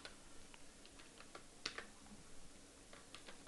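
Soft, fast key taps on a computer keyboard while code is written, a steady patter of clicks with a few sharper strokes, quiet and close against low room noise.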